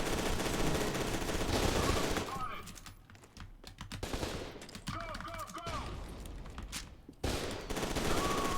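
Rapid bursts of gunfire from a sniper rifle in the shooter game F.E.A.R. 2, loud sharp cracks in clusters with gaps between volleys, layered with game sound effects and someone talking.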